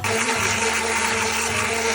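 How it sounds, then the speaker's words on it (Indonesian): A kitchen blender purees boiled, peeled tomatoes with a steady, loud whirring motor hum and liquid churning. It runs unbroken for the whole stretch with no voices. "lalu kita blender tomatnya sampai halus"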